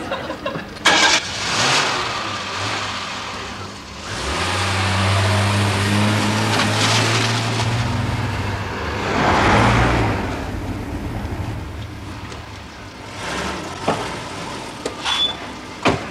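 A car engine hums and rumbles steadily while driving at night, with a few clicks and thumps of the car interior, a rise in engine drone midway, then it settles as the car slows.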